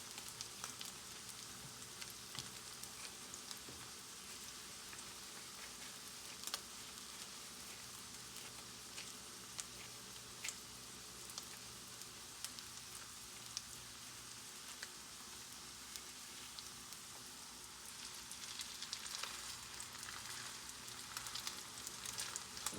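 Salmon burger patties fry over medium heat in a pan, giving a steady, dense crackling sizzle that runs on its own without talk and swells slightly louder toward the end.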